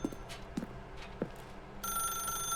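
A telephone rings in The Stanley Parable: Ultra Deluxe, its steady electronic trill starting about two-thirds of the way through, after a few soft, dull thumps.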